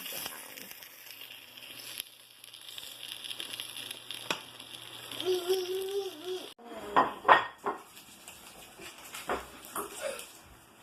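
Eggs cooking in a pan in a busy home kitchen, with clattering of pans and utensils and a faint sizzle, plus brief voices and a dog whimpering nearby.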